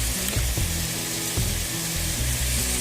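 Crumbled tofu and garlic sizzle steadily in a frying pan, a dense continuous hiss with occasional soft pops and scrapes, close and fairly loud with no talking.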